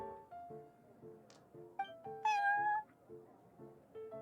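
A cat in the Genshin Impact game meows in a few short, clear calls, with one longer rising meow near the middle, heard over a soft repeating musical loop.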